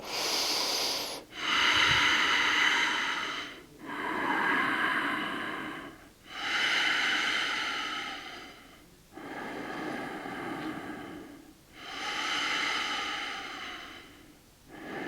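Heavy, laboured breathing during a standing balance yoga flow in tree pose: about five long, loud breaths, each a couple of seconds, separated by brief pauses.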